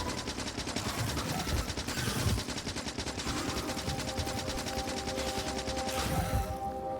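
Rapid submachine gun fire aimed at a small stationary worm in the factory-building game Factorio, a dense rattling stream of shots that runs for several seconds near and loud over a steady mechanical hum, with no voices.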